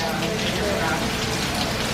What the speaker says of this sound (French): Par contre c'est la tempête, c'est un truc de malade.